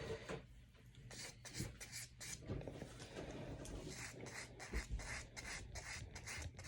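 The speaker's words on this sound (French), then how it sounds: "Le polisseur, on peut vraiment aller d'un bord et de l'autre." A nail buffer rubs back and forth across a resin and powder nail in quick repeated rasping strokes, close but quiet, with no talking.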